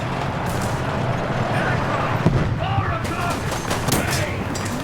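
Gunfire in War Thunder, Japanese tanks in arcade battle, cracks through a steady engine and battle rumble, with a sharp shot just past two seconds and scattered other reports.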